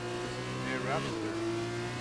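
A race car from a Russian Grand Prix racing video game sweeps past on track with a steady engine drone and a brief rising and falling whine as it passes, heard under a continuous background tone.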